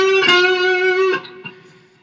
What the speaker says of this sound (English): it's more like a half step bend at the 10th fret of the G string